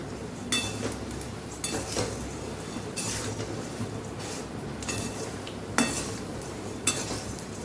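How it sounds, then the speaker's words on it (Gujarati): Puffed rice (mamra) tossed with spices in a pan for Mysore sev mamra, a continuous dry rustling stir with intermittent sharp metallic scrapes and clinks of a spoon against the pan, steady and close. "માત્ર મસાલો અંદર કોટ થઈ જાય ત્યાં સુધી જ આપણે મમરાને સાતળવાના છે"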